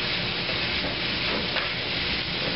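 Food seasoned with salt and pepper sizzles steadily in a hot pan, a loud, close, continuous frying hiss with no talk.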